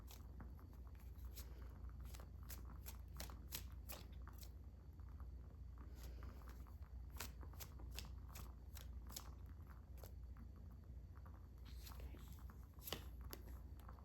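Tarot cards are shuffled by hand, producing irregular bursts of faint, dry clicking and flicking as the cards slide and tap together, soft and close with no voices.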